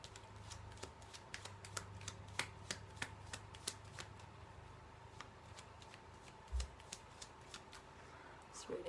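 Playing cards being shuffled for a tarot-style card reading, a run of quick crisp riffling clicks up close with a low steady hum under it, and a few sharper snaps near the end.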